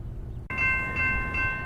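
An RTD A-line commuter train between Denver and the airport, with a steady rumble and a bright sustained tonal whine that starts abruptly and holds, close and fairly loud, with no voices.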